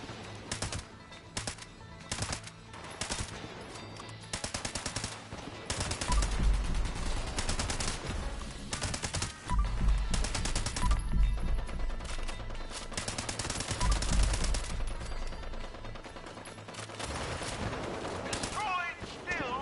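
Gunfire from a gun in the video game Fallout 76, with rapid, dense bursts of shots that come and go in loud stretches over a busy game soundscape, and a voice talking at times.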